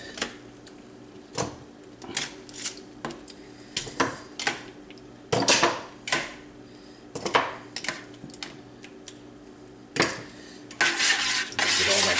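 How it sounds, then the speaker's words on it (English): Veal bones are moved into a metal stock pot with a run of sharp clanks and knocks at irregular intervals, close and fairly loud, ending in a denser clatter; no one speaks. "We're going to start transferring our bones into here now."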